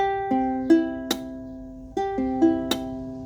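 A plucked ukulele string, not pressed down fully at the fret, rings thin and buzzy, cutting off early, repeated in a few slow attempts, alone and close.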